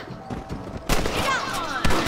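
Rifle shots ring out in Red Dead Redemption: a sharp blast near the one-second mark with a long ringing tail, then a second loud crack near the end, over a low steady game ambience.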